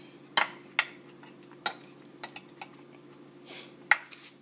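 Sauce is spread over enchiladas in a baking dish, a utensil clinking and scraping against the dish in scattered sharp taps and soft smears, close and fairly quiet.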